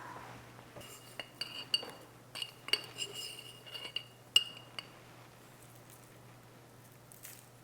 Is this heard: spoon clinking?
yes